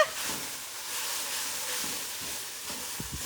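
Pad thai ingredients cooking down in a hot pan, giving a steady, fairly quiet sizzle and hiss throughout with a few soft stirring knocks near the end.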